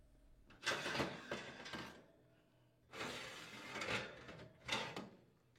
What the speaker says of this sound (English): Remove the oven racks